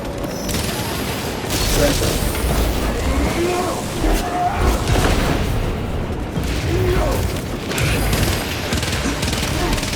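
Frag grenade explosion in Warhammer 40000: Space Marine 2, bursting amid dense ongoing combat with heavy gunfire and booms, loud and continuous through the whole stretch.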